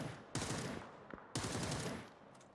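Gunfire in the video game PUBG comes as two long dense bursts of rapid shots, loud and echoing, with a short gap between them.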